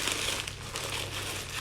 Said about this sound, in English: what I want to do is I want to put this plastic bag